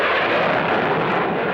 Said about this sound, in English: jet propulsion